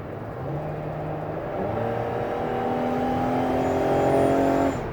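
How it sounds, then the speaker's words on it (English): A 2018 Dodge Caravan SXT mobility van cruises on a highway, a steady interior engine drone and road roar with a gradually rising whine as it picks up speed, no talking. "I always like to get the vans on a test drive"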